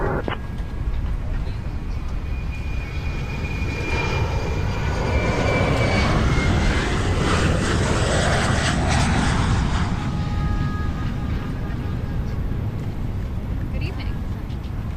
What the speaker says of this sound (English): Request pushback and engine start.